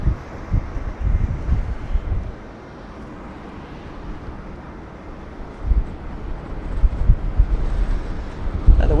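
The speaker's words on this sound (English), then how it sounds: "The wind's picking up." Strong wind buffeting a microphone on a level 12 rooftop overlooking Sydney Airport, a steady low roar with gusty swells that rise toward the end.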